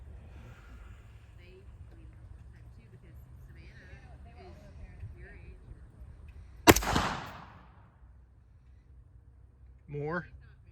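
A single sharp gunshot from a 300 Blackout rifle fitted with a Leupold scope cracks loudly and close, then decays, with quiet outdoor ambience before it and a brief voice afterward.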